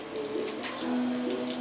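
Cool water rushes steadily through the hoses of a wort chiller at a homebrew boil, a continuous close hiss and gurgle of flow with no talking.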